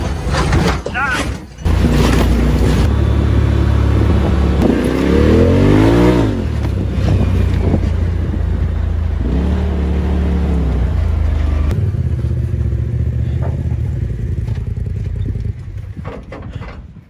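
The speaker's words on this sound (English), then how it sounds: "You just drove 3 miles through the roughest freaking trails with no coolant the entire way." An off-road vehicle grinding over very rough trails with no coolant, its engine loud and close, revving and surging repeatedly with rising and falling pitch amid mechanical rattling, while people talk over it.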